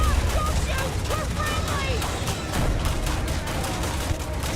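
Rapid bursts of gunfire from the Starfield video game crackle through a dense, noisy firefight, steady and loud throughout with no clear gaps.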